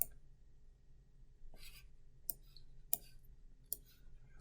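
Left button of a computer mouse clicking on a desktop, four or five sharp, close, isolated clicks spaced about a second apart in an otherwise quiet room.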